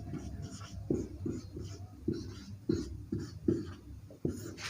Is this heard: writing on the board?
yes